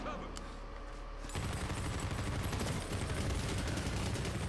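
Dense, continuous gunfire and explosions from the video game Medal of Honor Warfighter on PS3, rapid automatic bursts filling the scene and growing louder after a quieter opening moment.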